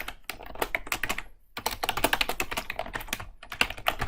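Rapid clicking keystrokes as code is typed on a computer keyboard, dense and steady with two brief pauses, close and clear with no talking.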